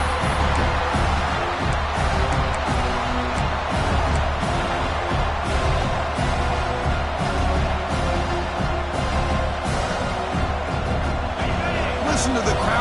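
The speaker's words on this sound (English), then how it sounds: "Listen to the crowd energy here in the early going." A large stadium crowd at a football game roars steadily throughout, a dense continuous wash of cheering and noise with commentary-like talk mixed in.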